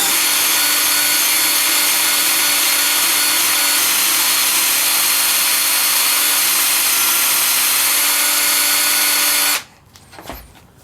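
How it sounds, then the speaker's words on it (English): Corded drill spinning a wire wheel on high speed, scouring a blade brake clutch bearing seat on a John Deere JX75 mower; a loud, steady whining grind runs continuously for over nine seconds, then cuts off abruptly, leaving faint handling noises. "I've attached the wire brush, or I should say wire wheel, on this drill. Threw it on high"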